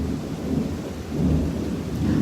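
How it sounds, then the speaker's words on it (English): Thunder rumbles across a beach, a low rolling roar that swells in two long waves over steady rain-like noise, with no talk. "I'm going to hear a big thing of thunder"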